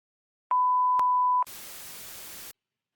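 A single answering-machine beep, a steady electronic tone lasting about a second with a click at each end, then a burst of hiss before silence.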